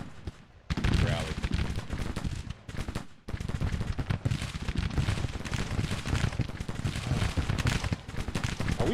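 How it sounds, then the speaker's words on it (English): Dense, continuous musket and cannon fire crackles and rumbles through a battle in the strategy game Grand Tactician. The volleys are loud and sustained, and a player's voice comes in intermittently over the din. "Are we firing back here or not?"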